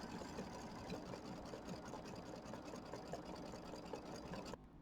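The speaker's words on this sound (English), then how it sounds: "It's going to do the satin stitching" An embroidery machine runs a satin stitch on a small Kimberbell mini quilt, a fast steady mechanical whirr and needle chatter close by, continuous at even loudness before dropping off abruptly near the end.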